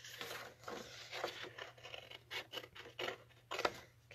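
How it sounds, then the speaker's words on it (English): Scissors snipping around a small paper card image, a close, quiet series of irregular crisp cuts and rustles. "I'm going to start by just kind of quickly cutting him out"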